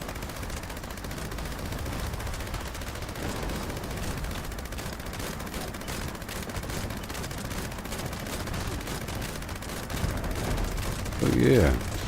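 Sustained heavy weapon fire from Fallout 76 rattles on as a dense, continuous stream of shots, with a louder burst near the end.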